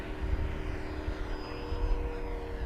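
An FMS 1700mm Corsair V3 RC warbird with a new propeller on 6s or 8s power makes a steady propeller and electric motor drone as it passes, with a faint pitch shift over the wind and field noise.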